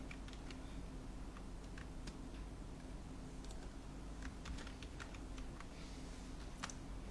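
Faint, scattered keystrokes on a computer keyboard, quick irregular clicks over a steady background hum, with no talking.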